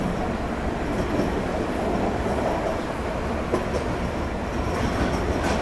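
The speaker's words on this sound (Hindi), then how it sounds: "सौ 40 किलोमीटर का रास्ता तय करती हमारी वंदे भारत एक्सप्रेस कसारा घाट से होती" A Vande Bharat Express passenger train runs through the Kasara Ghat, a steady loud rumble of wheels on rails with faint clatter, heard up close and continuous.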